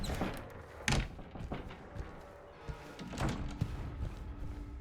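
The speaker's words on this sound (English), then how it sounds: "so I need to go back through this door." A door opening in Silent Hill 2 Remake gives soft thunks and thuds with a few sharper knocks, fairly quiet against a low ambient background.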